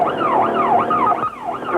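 A loud, close police car siren wails in rising and falling sweeps on a pursuit along a road, steady and continuous with no voices.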